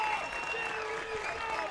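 Crowd at an Army vs Navy rugby match applauding and cheering, a broad steady wash of clapping and voices from a distance, with a commentator talking over it.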